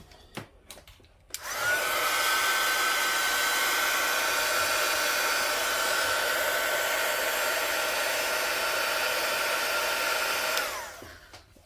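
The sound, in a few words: hair dryer drying an art journal page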